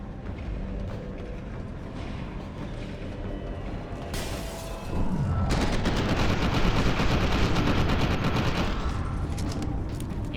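Gunfire in the first-person shooter F.E.A.R. 2: Project Origin, with shootable windows. A few scattered shots and mechanical sounds give way midway to loud, sustained rapid fire that continues to the end.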